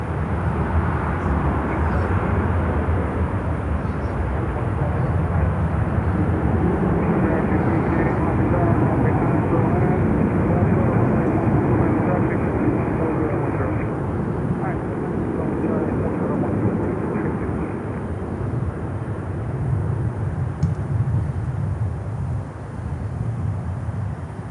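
An Aer Lingus airliner at Miami airport gives a sustained, loud jet engine roar that rises and falls gently over a long stretch, with faint voices underneath.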